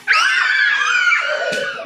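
Children in a classroom let out a loud, sustained high-pitched group scream on cue during a song, starting sharply and holding for nearly two seconds before trailing off.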